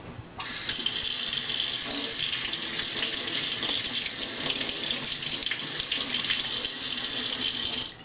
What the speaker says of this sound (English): take your strawberries and begin washing them